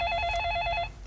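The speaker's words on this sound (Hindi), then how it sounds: "रीचा फोन उठाना, रीचा फोन।" A telephone rings with a steady electronic trill for under a second, clear and close, then cuts off over a low room rumble.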